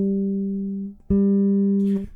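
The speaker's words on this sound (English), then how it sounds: "use the 12th fret harmonic and then compare it to the 12th fret fretted note" A guitar rings a sustained pure 12th-fret harmonic, then the 12th-fret fretted note sounds slightly sharper and sustains, close and alone.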